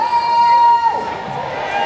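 A lively outdoor crowd murmurs and cheers at a 79th birthday concert celebration in Emancipation Park, with nearby voices talking over the steady hubbub and a faint high tone in the background.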